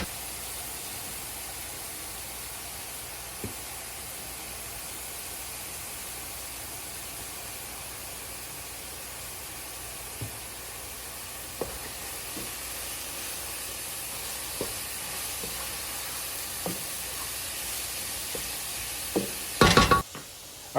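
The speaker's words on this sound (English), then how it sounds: "you can see our vegetables are cooking down really nice" Chopped vegetables sizzling as they cook down in a big pot of Texas-style chili, a steady hiss with occasional soft stirring clicks, ending in a louder clatter.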